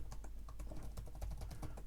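Fingers type steadily on a Lenovo Legion 5 Slim 16 Gen 8 laptop keyboard with a full-size number pad, giving a quiet, close, even patter of soft key presses with no voices.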